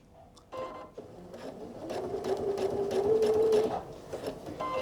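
A new sewing machine runs a steady stitching burst on a quilt, a close mechanical whir with rapid needle ticks that rises and holds for a few seconds, then eases off.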